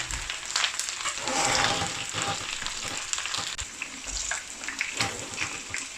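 Chopped cubed onion and pepper with a little salt hit a hot pan for lamb karahi, giving a continuous, lively sizzle with crackles and faint stirring, close and without any talking.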